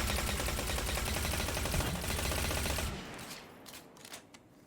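Suros Regime exotic auto rifle in Destiny 2 firing a steady rapid stream of loud close shots for about three seconds, then stopping into fading echoes and a few faint clicks.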